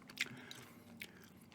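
Soft, wet gum chewing close to the microphone, with a couple of moist smacking bites standing out over a quiet low hum.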